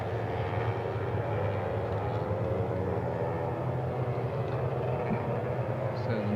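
Yamaha R3 race motorcycles run at an Asia Road Racing Championship round, a steady, distant engine drone with a continuous rumble throughout, and some faint talk underneath.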